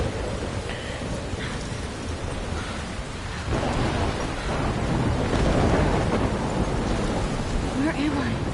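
A thunderstorm in the video game Life is Strange: heavy, steady rain hisses throughout while low thunder rumbles build and swell in the second half, loud and close.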